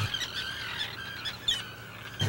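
Terns scream continuously at a seabird nesting colony on the Maine coast, with overlapping shrill calls rising and falling at moderate distance and no talking.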